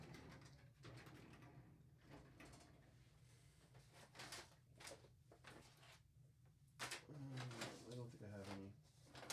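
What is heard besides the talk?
drawers being opened and searched through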